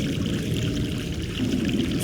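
A mountain stream in The Longest Journey video game flows steadily, giving a continuous close wash of pouring water with no voices.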